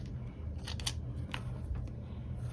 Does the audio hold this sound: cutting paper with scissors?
yes